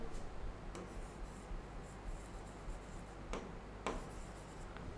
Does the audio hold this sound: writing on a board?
yes